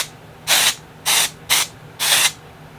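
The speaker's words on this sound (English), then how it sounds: "I wanted to spray this all over myself because it's so pretty and glittery." Glitter spray misted over the body during a makeup session: four short, close hissing bursts, evenly spaced, with quiet pauses between and no talking.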